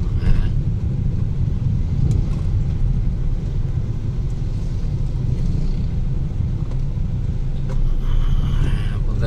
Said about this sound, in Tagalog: Tayo ay nagmamaneho.